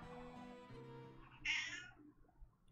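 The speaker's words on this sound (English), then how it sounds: "Kitty says it's time to eat." A house cat meows for food, a close, faint meow that cuts through quiet room tone and music-like tones from a game playing in the background.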